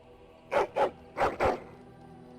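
A dog in Dragon Age: Origins gives four sharp barks, two close together and then another pair after a short pause, loud and near against quiet ambience.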